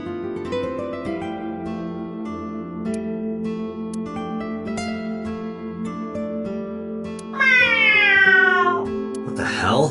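A character in the game AI: The Somnium Files imitates a cat's meow, a bright wavering cry rising near the end over steady background music.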